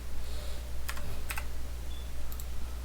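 Several crisp computer keyboard keystrokes, including a press of the L key, tap out in a short irregular cluster over a low steady hum, close and fairly quiet with no talking.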